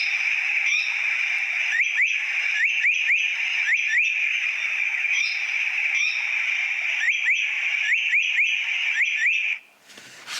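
Repeated bright whistled bird phrases from a Japanese white-eye or Japanese paradise flycatcher in a camellia forest wetland, a steady run of rising chirps and trills, near and clear, with no voices.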